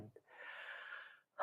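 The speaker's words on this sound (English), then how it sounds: "holding it for a count of 3, 2, 1, then exhaling with some sound" A single long, breathy exhale with audible sound during a guided breathing exercise, soft and close, lasting about a second with a faint sharp intake before it.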